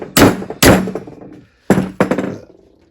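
Four hard metallic thunks from hammering on the propeller shaft of a Volvo Amazon, two blows, a short pause, then two more, close and loud with ringing decay.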